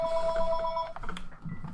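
A telephone rings with a short electronic trill that cuts off partway through, followed by muffled low clatter.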